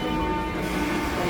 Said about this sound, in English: Train, let's get inside.